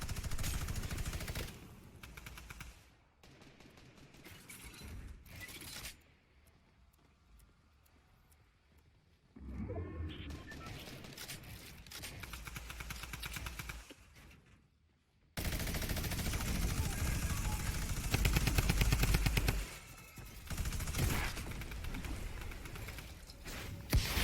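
Gunfire in a Fortnite solos match, rapid bursts of shots mixed with other game sounds, coming in dense stretches broken by quieter gaps across the clip, with no talking.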